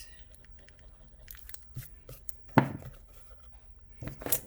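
An eraser rubs a pencil drawing on paper in short, quiet scrubbing and crinkling strokes, close up, with a couple of sharper rustles.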